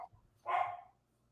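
A single short dog bark rings out once, moderately close, after a brief quiet moment with faint background noise.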